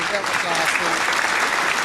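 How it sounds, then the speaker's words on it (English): Audience at a comedy game show clapping, a dense steady burst of applause filling the room, with a voice briefly speaking over it. "Let's give him one more big round of applause."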